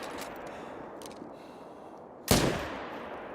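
A single hunting-rifle shot in theHunter: Call of the Wild, set in Scotland, cracks sharply against a faint outdoor ambience. A short rolling tail follows the shot.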